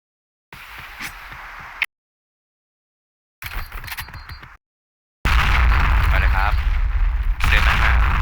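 Bursts of loud gunfire and grenade blasts in the video game Point Blank, in separated chunks, ending in a sustained roar of heavy explosions, with voices talking over the action.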